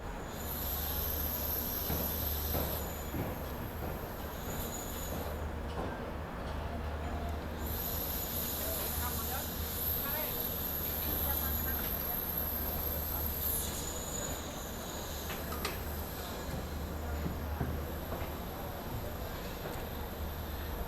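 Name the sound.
Bharat Gaurav tourist train running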